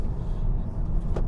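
Low road rumble and thumping suspension noise inside a BYD Dolphin driving over a bumpy, damp road, a steady close drone with a faint knock near the end.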